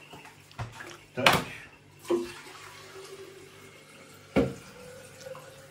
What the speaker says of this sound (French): Pour gagner du temps, je vais mettre de l'eau tiède.